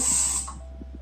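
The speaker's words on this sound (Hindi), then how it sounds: "स्प्रे किया" A short burst of hairspray hisses onto hair, close and sharp for under half a second, then gives way to faint handling clicks and rustles.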